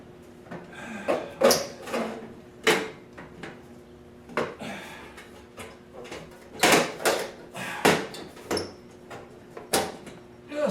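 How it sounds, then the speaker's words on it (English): Plastic fluorescent light fixture cover being pushed up into place under a ceiling fixture: a series of sharp squeaks, clicks and clunks in irregular bursts, close and fairly loud, with no talk. "The cover just squeaks up under it."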